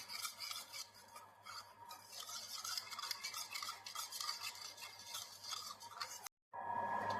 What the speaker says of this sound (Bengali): এবার এটাকে ভালো করে মিক্স করতে হবে একটা স্পুনের সাহায্যে, যাতে মশলাগুলো দইয়ের সাথে পুরোপুরি মিক্সড হয়ে যায়